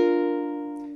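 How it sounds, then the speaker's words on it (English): A single sustained ukulele note on the second string ends a short riff landing on B flat, ringing clear and close with a slow natural decay, no talking. "I play that on the ukulele on the second string."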